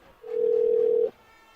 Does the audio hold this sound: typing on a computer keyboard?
no